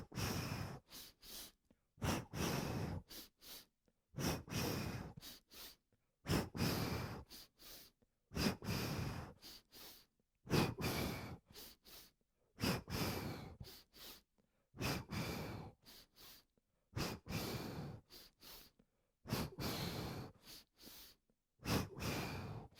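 Yoga warrior breath exercise from a Kundalini kriya practice: a person takes repeated forceful, rhythmic breaths, each a loud rushing inhale-exhale burst of about a second. The breaths come in regular pairs separated by short silences, close and clear.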